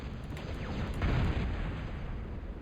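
A missile strikes and explodes over a construction site in a video game. A broad rumbling blast swells at about the one-second mark and then decays into a lingering low roar, with no voices.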